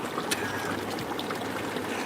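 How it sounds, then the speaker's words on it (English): Running water from an outdoor stream rushes steadily and close by, a continuous loud babbling wash with no voices over it. "Hope the water's not too loud"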